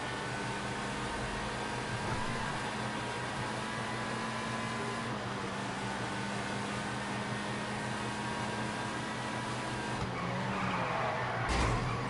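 A car drives in a PS4 racing video game, its engine a steady continuous drone throughout with brief tire skid noise, and a sharp burst near the end; no talking.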